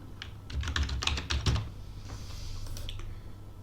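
Quick close keystrokes on a computer keyboard as a file name is typed, a brief cluster of clicks over a steady low hum, with no one speaking.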